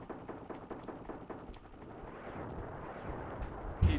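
Rapid thumping bursts of missile fire and impacts in Desert Strike: Return to the Gulf on the SNES, a string of repeated blasts over steady rumble, ending in a sharp louder hit.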